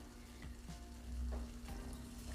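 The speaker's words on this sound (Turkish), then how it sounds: "2 yemek kaşığı dolu dolu un, aynı beşamel yapar gibi kavurarak işe başlıyorum" Two heaping tablespoons of flour toast and get stirred in a pan, as for a béchamel, giving a steady, close, soft sizzle with faint scraping and no talking.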